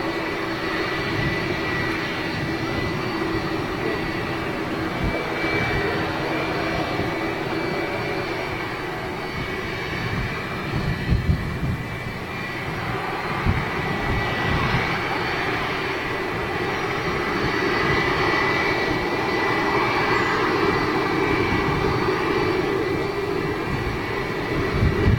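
An Aer Lingus ATR 72 turboprop airliner at Manchester Airport makes a loud, steady engine roar that holds for the whole stretch without fading, and no voices come through over it.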